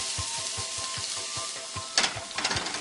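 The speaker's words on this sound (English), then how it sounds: "Garlic is going to go into olive oil over here." Garlic sizzling in olive oil in a pan, a steady close hiss with regular low knocks like stirring, and a brief louder burst of sizzle near the end.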